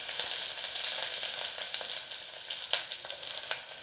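Chopped medium-sized onion and curry leaves fry in a pan, a soft continuous sizzle with scattered pops and crackles, close and fairly quiet, with no voices.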